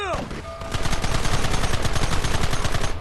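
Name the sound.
gunfire in Red Dead Redemption video game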